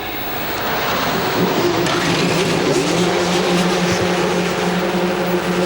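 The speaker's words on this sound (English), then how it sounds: "And there we go, engines are fired up." A field of A1GP race cars with Zytec V8 engines fires up at the Shanghai circuit, a loud building roar of many engines idling and revving together after a short rise at the start.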